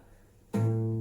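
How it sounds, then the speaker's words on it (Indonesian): A single low guitar note, A on the sixth string at the fifth fret, is plucked and rings out steadily, its tone sustaining clearly after a quiet moment. "ini tuh suara senar A."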